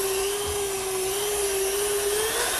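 A meat grinder churns long sticks of pork shoulder into sausage meat with a steady, loud motor whine that holds a constant pitch throughout, with no speech.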